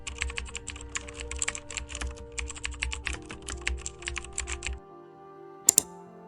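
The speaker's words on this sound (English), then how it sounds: "Let's type in our prompt." Rapid, steady typing of a prompt on a computer keyboard, close and clear, with a quick burst of clicks that stops abruptly near the end, followed by a lone sharp click after a short pause; no talking.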